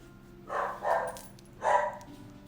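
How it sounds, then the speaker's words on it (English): Pet dog barking indoors, three short muffled barks in two quick bursts, moderately loud against a low steady room hum. "My dog was barking a little bit."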